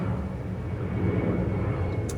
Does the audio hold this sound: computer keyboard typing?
no